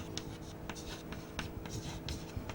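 Chalk or marker scratching out characters on a board during a digital electronics lecture, a quick run of short strokes and taps with brief gaps, close and fairly quiet against room hum.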